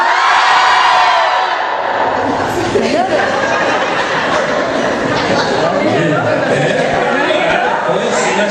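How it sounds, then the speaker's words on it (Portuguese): A church congregation shouts loudly together, a sustained dense roar of many voices with whoops and cheers that holds steady for several seconds. "Vai dar um grito bem forte aí"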